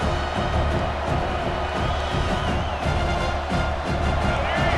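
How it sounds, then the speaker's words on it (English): A stadium crowd in EA Sports College Football 26 roars at a home game, making a steady, dense wall of cheering noise that holds loud and even throughout without breaks. "this home crowd is fired up and ready to make a difference today"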